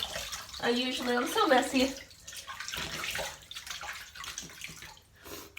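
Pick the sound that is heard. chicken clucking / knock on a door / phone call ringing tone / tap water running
tap water running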